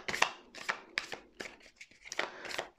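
Tarot cards are shuffled by hand close by, making a quick series of about seven crisp papery bursts with short gaps between them.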